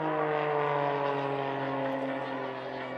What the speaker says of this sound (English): Now watch as the aircraft pitches up,